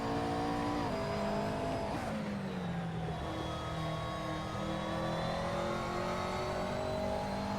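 A race car engine on a lap in a sim racing game, loud and continuous, its pitch climbing and then dropping sharply at quick gear shifts before it settles into a steady high-revving drone.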